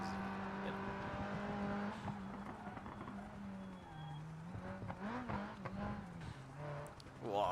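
A race car laps a track in the BeamNG driving game, its engine note rising and falling through corners and a chicane as the tires squeal and skid. Commentary runs over the engine throughout.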